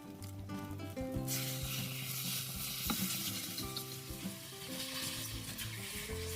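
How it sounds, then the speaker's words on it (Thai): Rice noodles stir-fry over high heat with a loud, steady sizzle that swells after a brief quieter start, plus scraping and clinking of a utensil in the pan. "เราจะใช้ไฟแรงในการผัดนะคะ ผัดไปจนเส้นแห้งแล้วก็เกลี่ยนิดๆค่ะ"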